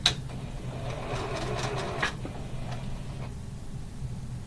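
A sewing machine stitching cotton fabric pieces for a quilt block, a brisk run of stitching that stops after about two seconds, then a quieter pause with a few light mechanical clicks.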